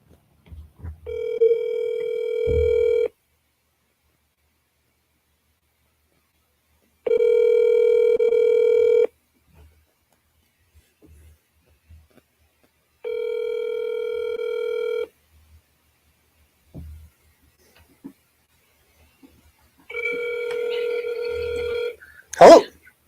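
Outgoing call ringback tone on a telephone, four evenly spaced steady buzzing rings about two seconds each with silent gaps between, clear and close, ending with a brief click as the line picks up.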